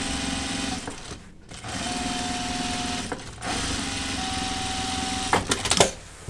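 A home sewing machine stitching the seams of pull-on jeans, running in steady bursts of motorized stitching with brief pauses between runs and a short clattering flurry near the end.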